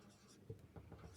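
Writing during a discrete mathematics lecture, faint short scratchy strokes of pen or chalk in a quiet room, ending with a brief sharper tap.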